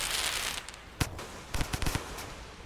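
A firecracker in the video game Rain World goes off as a quick run of sharp cracks and pops over a hissy background, the bursts sounding fairly faint and clustered together.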